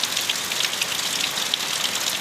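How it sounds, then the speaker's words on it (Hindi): Moderate rain falls in a village in Jharsuguda district, Odisha, on a June afternoon, a dense steady hiss of drops pattering on surfaces nearby without pause. "मध्यम धरणर वर्षा हो जाइए आज जून 3 तारीख द्विपहर 2 बजे"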